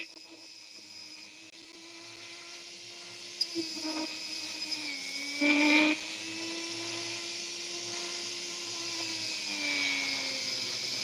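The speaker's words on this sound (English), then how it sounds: "Just cutting through the sand section." An opal being cut through its sandy section with a lapidary saw: a steady high whine with shifting pitch as the blade works, with a brief louder grinding surge in the middle.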